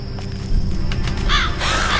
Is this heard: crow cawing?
yes